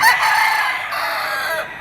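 A gamecock rooster at a Lipa auction market gives one loud, close cock-a-doodle-doo crow that rises and then trails off, standing clearly on its own.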